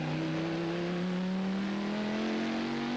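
On-board engine of a Car Sport Holland race car in the 2002 FIA GT series, a loud steady drone with harmonics rising slowly as the car accelerates, continuous and close throughout with no talk.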